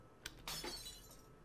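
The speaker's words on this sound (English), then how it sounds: "The sound of glass shattering rents through the air as soon as her hold on it loosens." Glass shattering: a small tap, then a sharp crash with bright scattering shards that ring out and fade over about a second, fairly quiet and isolated.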